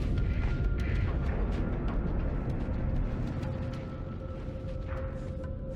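Ships blowing up in Starsector, a space combat game, heard as a dense, continuous rumble of booming blasts and weapon fire that stays loud and steady throughout, with no voices.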